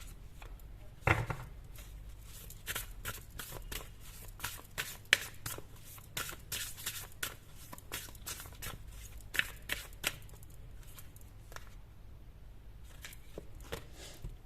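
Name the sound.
tarot cards being shuffled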